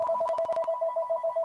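A telephone rings through a live stream, a steady electronic trill repeating in quick even pulses, close and clear, with a few brief knocks or clicks over the first half.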